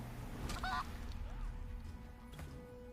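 A chicken in Divinity Original Sin 2 gives a brief, nasal honking cluck, followed by a fainter squawk later, over a low game ambience.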